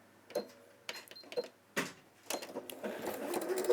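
A sewing machine stitches a decorative cross stitch in short start-stop bursts, then runs in a longer steady whir toward the end, close and moderately loud.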